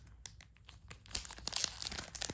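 Foil card packs of classic football cards torn open and crinkled by hand, a run of close, sharp rustles and crunches that grow busier and louder partway through.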